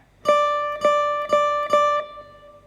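A single bright acoustic guitar note on the first string at the 10th fret, from the solo of a song, plucked four times in an even, steady rhythm, each ringing briefly before the next, close and clear with no voices.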